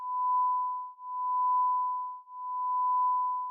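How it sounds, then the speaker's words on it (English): A cell phone beeps in a steady pure tone, three long evenly spaced pulses, clear and isolated. "That's my cell phone."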